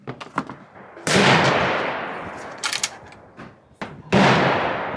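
AR rifle shots at an outdoor shooting range: two loud, sharp cracks each trail off in a long echoing decay, and fainter, more distant pops sound between them.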